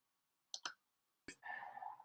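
A computer mouse clicks twice in quick succession, then once more, sharp and close in otherwise near silence, followed by a soft breathy noise.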